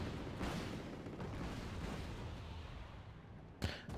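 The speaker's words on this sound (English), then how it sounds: "you can see them firing their tow missile at the enemy over there" TOW missiles launching in the war strategy game Wargame AirLand Battle: a dense, continuous rumbling barrage of launches and blasts, with one sharper, louder burst near the end.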